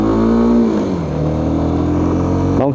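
A Kawasaki Z 250 SL motorcycle engine revs up, settles into a steady loud drone, then blips sharply near the end, close-up and with no talk.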